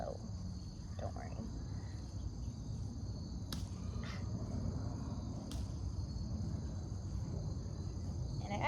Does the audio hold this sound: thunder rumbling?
no